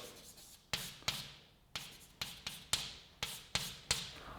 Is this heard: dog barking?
no